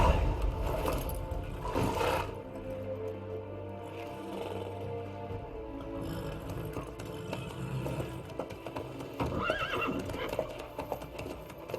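In The Witcher 3, a horse whinnies loudly and snorts while hooves clop along steadily, the neighs rising over continuous rustling and rumbling ambience.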